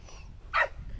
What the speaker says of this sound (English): So I've just told the dogs to be quiet, so then Tilly's jumped in and she's telling them all what for